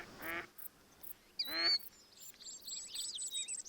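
Ducks quacking in the hunting game Hunter Call of the Wild, a couple of loud nasal calls up close followed by a busier flurry of higher chatter and calls, with no talking.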